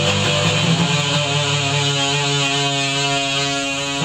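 A guitar played through the fuzz effect of a Zoom G7.1ut multi-effects pedal with a vacuum tube, giving a loud, dense, sustained distorted tone with rich harmonics that rings steadily throughout.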